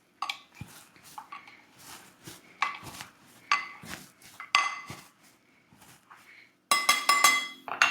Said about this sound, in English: Let's muddle this together